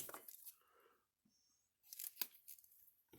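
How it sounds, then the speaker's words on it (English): Wire is snipped off an O'Briens 16/110 electric fence charger under repair, giving a few quiet crisp cuts and scraping handling noises separated by short silences. "I'm going to cut off some of this"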